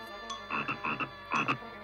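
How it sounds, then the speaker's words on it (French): A lucky toad in a Smurfs cartoon gives several croaks, throaty and buzzing, in two clustered bursts close up against a quiet background. "Ce n'est pas un simple crapaud ordinaire, non. C'est un crapaud porte-bonheur."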